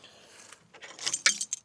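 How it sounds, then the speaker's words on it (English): A large bunch of keys jangles close by in short metallic bursts that build to a few bright shakes near the end. Nobody talks. "So we have a whole bunch of keys here."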